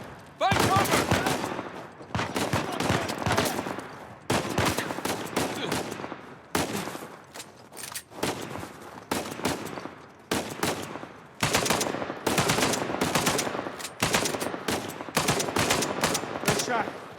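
Sniper and automatic gunfire crackle in Uncharted 4 during a firefight, loud repeated bursts of rapid shots separated by short pauses, continuing in clustered volleys throughout.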